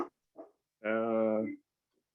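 A single dog gives a short bark and one longer, drawn-out harmonic bark or howl during a small-town selectboard meeting, heard close and clear amid brief gaps, with quiet voices at the edges.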